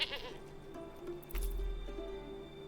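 Goats bleat in the video game Manor Lords, a few wavering calls over a quiet game soundscape, with a low thump partway through.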